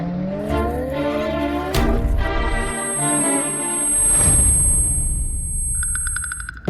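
A car revs and speeds off hard during a chase on a road, engine tone climbing through several gear pulls with a brief tyre squeal. The sound is loud and close, and no one speaks.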